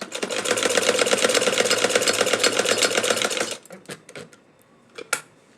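A domestic sewing machine stitches the neckline of a baby frock in a steady, rapid mechanical whir for several seconds, then stops, followed by a few scattered clicks and handling taps.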